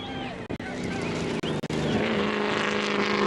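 Rally car engines at the Monze 2022 Motor Rally in Zambia, a loud, sustained revving roar with shifting pitch and brief cuts, close by, with possible faint voices mixed in.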